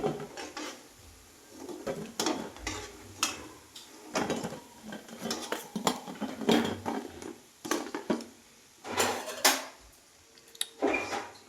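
Crispy fried alasande vada, black-eyed pea fritters, being cut on a Sunday, giving a series of close, loud crunching and rasping cracks in irregular bursts with no talking.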